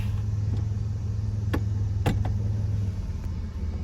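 A 1997 Dodge Grand Caravan minivan on the move, its steady low engine and road rumble running throughout, with a few faint clicks over the top and no one speaking.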